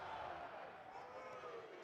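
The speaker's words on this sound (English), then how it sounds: "Maroon and white chants going all across Dudy Noble right now" A stadium crowd at Dudy Noble baseball stadium chants maroon and white for Mississippi State, a steady loud roar of massed voices with a rising and falling chant, broadcast commentary sitting faintly underneath.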